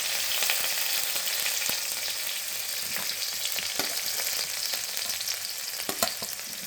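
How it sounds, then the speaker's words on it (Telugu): Green chillies and onions fry in hot oil with mustard seeds, cumin and curry leaves in a pan, giving a continuous dense sizzle with occasional stirring clicks and scrapes. "ఇప్పుడు ఈ ఆనియన్స్ బాగా ఎర్రగా వేగాలి"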